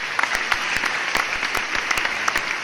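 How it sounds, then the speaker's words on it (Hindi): An audience at a Hindi poetry recital applauds the stage, steady dense clapping sustained throughout, loud and close with no voices over it. "एक बार मैं चाहता हूँ इस मंच के लिए ताली बजाएं।"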